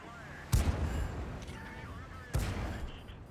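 Two loud, booming cannon shots from a Panhard EBR 75 armoured car in the World of Tanks game, about two seconds apart, each trailing a rumbling decay over steady engine noise.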